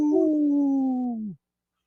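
A person imitates a wolf howl, a single sustained wavering note that slides slowly downward and breaks off abruptly after about a second and a half, followed by silence.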